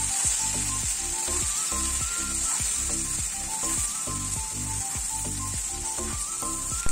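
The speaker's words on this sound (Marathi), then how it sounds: "हाय फ्लेमवर आपल्याला ही भेंडी यामध्ये टाकायची फोडणीमध्ये" Okra drops into hot oil and spice tempering over a high flame, sizzling steadily with a rhythmic scrape of stirring and no voices.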